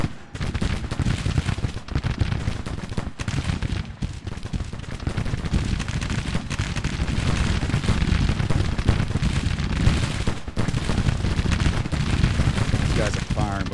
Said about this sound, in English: Guys are firing, but we can't see them.